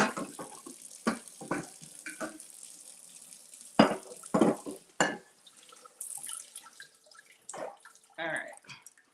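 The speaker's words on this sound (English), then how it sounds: "just give those a nice little rinse" Peeled shrimp for Spanish garlic gambas rinsed under running tap water, with irregular splashing bursts and drips between quieter moments, and a voice speaking occasionally over the water.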